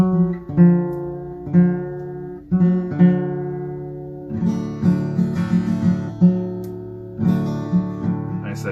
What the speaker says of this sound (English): you may have played around with a D major alternate tuning or a dadgad tuning